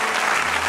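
Church congregation clapping in a burst of dense, steady applause, a brief crowd of hands heard at moderate loudness without distinct voices.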